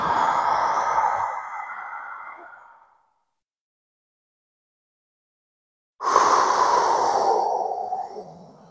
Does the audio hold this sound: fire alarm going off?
no